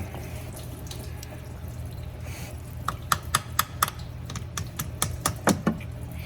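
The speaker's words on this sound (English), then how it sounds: "It's starting to leak now. Yep, there it is. Just let it leak like that." Coolant drips from the thermostat housing of a 2015 Jeep Wrangler 3.6, falling as quick, sharp, close ticks that come in an uneven patter over a low background hum.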